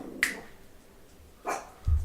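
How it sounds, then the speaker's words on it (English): A pet dog named Max gives a couple of short, sharp barks a second or so apart, followed by a low thump, heard nearby in a quiet room. "My dog just likes barking at anything and everything."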